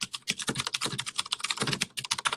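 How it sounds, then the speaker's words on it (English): Typing on an old typewriter, a fast, uneven run of sharp, close clacks of the keys for about two seconds, loud and dry with no voices. "If it sounds like I'm typing on an old typewriter, it is"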